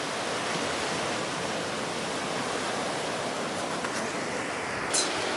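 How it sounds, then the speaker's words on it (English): An incoming tide at Rockport sends waves washing onto the shore in a steady, close, hissing roar that never lets up. "The tide is coming in."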